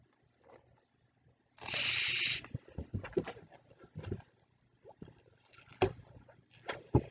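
A twisting balloon is inflated with a loud hiss of air from a hand pump, followed by squeaky rubber rubbing and faint handling noises, close and without speech.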